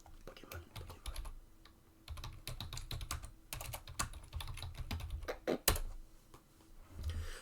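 Computer keyboard typing in irregular bursts of quick clicks and clacks, close by, with pauses between runs and one sharper knock near the end.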